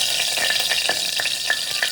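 Masala paste sizzling and frying in a hot pan in a home kitchen, a steady bright hiss with soft periodic stirring scrapes, close and continuous with no talking.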